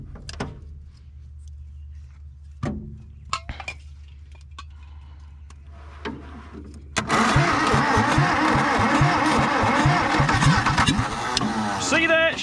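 A 1962 Hillman Minx, revived after 40 years, gives scattered metallic clinks and cranking attempts, then its engine catches on carb cleaner and runs loud and rough, close by.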